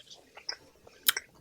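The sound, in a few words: lip smacks and crunching while chewing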